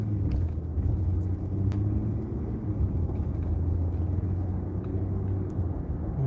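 A car cruises down Garvey Street in Monterey Park, a steady low road rumble and engine hum heard from inside the cabin, with faint passing traffic and no talking.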